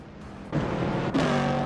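A 1969 Chevrolet Camaro race car engine in a racing video game drones steadily, then rises in pitch in two quick upshifting surges, loud and close with no talk.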